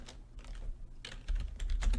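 Fingers tap out quick bursts of keystrokes on a computer keyboard, close and clicky, with a brief pause before a denser flurry of typing; no one speaks.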